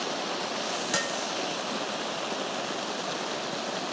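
Heavy rain pours steadily outside as a dense, even hiss with one brief sharp knock near the start, and no voices.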